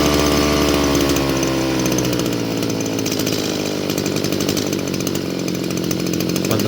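A Chinese 25cc brushcutter engine runs loud and close with a buzzing, raspy two-stroke drone while its carburetor low-speed screw is adjusted, the pitch wavering and settling slightly lower as it continues unbroken.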